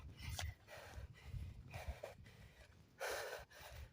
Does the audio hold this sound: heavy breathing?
yes